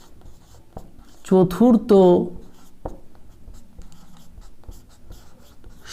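Pen scratching on paper as a math answer is written out by hand, soft scratchy strokes running throughout, briefly interrupted by a spoken word near the start.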